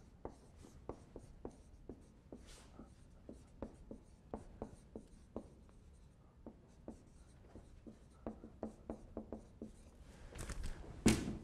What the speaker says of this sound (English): I'm going to write it up on the board